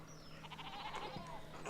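A sheep bleats once in the medieval video game Pentiment, a short wavering call over a low steady background hum.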